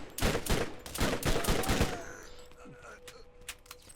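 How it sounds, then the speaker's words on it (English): A burst-fire weapon in Borderlands fires several sharp, loud volleys of rapid shots in quick succession, then trails off into faint echoes and ambient game noise. "burst fire weapons are always a bit more accurate than fully automatic"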